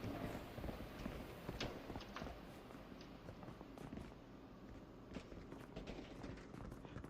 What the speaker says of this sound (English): One thing that's important in this game is listening for enemy footsteps